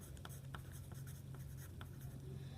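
A pen scratches and taps across paper in short strokes, steady and faint in a quiet room, with no voices.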